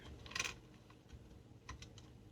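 A computer keyboard clatters softly while cells are filled in a spreadsheet, with a quick burst of keystrokes followed by a few scattered taps against faint room hiss.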